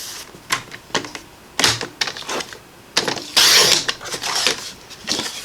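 A paper trimmer slicing cardstock in half along the 11-inch side, a series of close sharp clicks and scraping rasps as the blade slides, with a longer grinding stretch midway.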